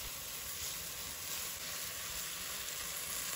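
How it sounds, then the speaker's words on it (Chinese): Beef sizzles in a hot wok over high heat as mixed sauce is poured in around the edge and tossed, a steady hissing fry with no voices over it. "然后把调好的料汁沿着锅边加进来，翻炒均匀。"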